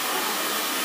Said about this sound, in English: we're just going to let the dryer do the work